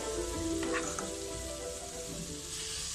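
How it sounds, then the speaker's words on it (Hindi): Hot tandoori chai poured into a heated glass sets off a loud, close hiss and bubbling sizzle that flares early with a few sharp crackles, then settles into a steady fizz without speech. "ये देखिए तंदूरी चाय अब हम इसे गिलास में डालते आएंगे"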